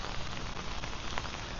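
Rain falls steadily during a morning walk in Phuket, a dense, even hiss of drops hitting surfaces all around. The sound is continuous with no clear breaks and no talking.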